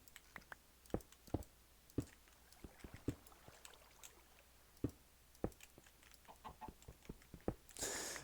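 Minecraft chickens cluck in short, scattered clucks from the game, with a busier burst near the end and no talking.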